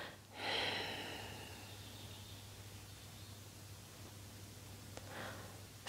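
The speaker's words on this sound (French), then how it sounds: "Entendez le bruit de votre expire" Forceful exhalation through the nose during a yoga breathing exercise, one strong breathy rush that fades slowly, then a shorter second breath near the end, close and quiet over a low steady hum.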